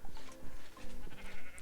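Sheep in a Minecraft world bleat in several short, wavering calls spread across the moment, fairly close and clear over a busy game background.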